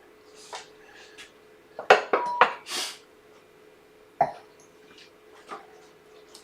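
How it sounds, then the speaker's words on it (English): A glass is lifted out of a wooden dovetailed box in a woodworking workshop. Several sharp, close clinks and knocks of glass against wood come in a quick cluster, followed by a few softer taps and handling sounds, with no talking. "there's a glass in there, I better take that out"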